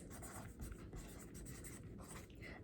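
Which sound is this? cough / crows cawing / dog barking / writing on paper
writing on paper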